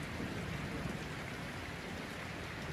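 Heavy rain pours down in Batam during flooding, a constant broadband hiss with a deep rumbling undertone, unbroken and quiet-to-moderate in level.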